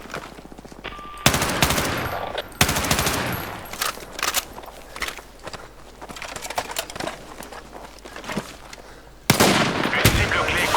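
Bursts of automatic gunfire fill a Battlefield RedSec match, with rapid rattling volleys starting and stopping over a steady background din, loud and close, with no clear talk.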